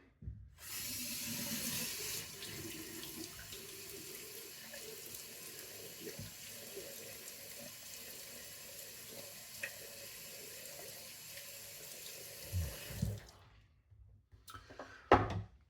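Water runs steadily from a bathroom tap into a sink while a face is wetted before lathering for a straight-razor shave, a continuous close splashing stream that stops near the end, followed by a few small clicks.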